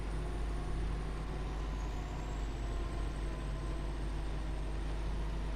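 Western Star 47X heavy truck in SnowRunner driving steadily, a deep continuous engine drone with a faint high whine riding on top, loud and unbroken with no talk.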